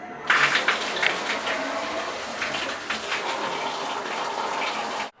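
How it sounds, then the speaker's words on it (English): Water gushing through a shower line in a bathroom after the supply is turned back on, a steady broadband rush that holds nearly constant for about five seconds and then cuts off abruptly, with no talking. "I'm going to go back outside and turn the water back on for the property or for this bathroom"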